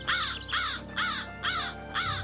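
A crow in a radio drama caws five times in an even, measured rhythm, each harsh call loud and close and standing alone with no talk.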